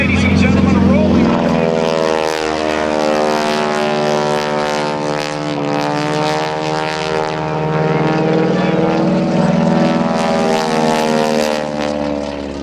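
A large propeller cargo plane rolls past at a Blue Angels airshow, its loud steady multi-engine drone with a strong pulsing propeller tone holding throughout, while a public-address announcer talks over it.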